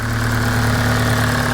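Honda Civic Type R EP3 engine running steadily in the engine bay, a loud close idle with an even, healthy hum and no speech over it.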